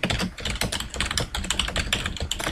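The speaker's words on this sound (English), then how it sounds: "Here I'd like to type," Rapid, steady clatter of typing on a computer keyboard while entering text into a Microsoft Word 2010 document, keystrokes close and crisp with a few heavier spacebar-like taps, no voices.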